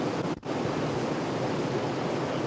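A steady broad rush of water and wind noise runs without a break while a fish is reeled in. A brief dip in the sound comes near the start, and no one talks.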